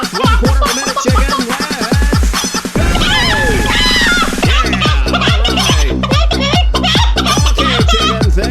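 Arcade laser-disc game Hologram: Time Traveler plays loud synthesized chicken clucks and squawks, a dense run of short repeated bursts over game music and effects, with no talking.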